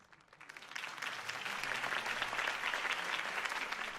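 Dense applause from a video game crowd swells up over the first second, then holds steady as a continuous wash of clapping.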